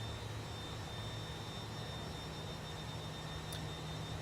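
Fokker F28 jet engines in Microsoft Flight Simulator, a steady broadband roar with a low hum and a faint high whine, constant and unbroken throughout.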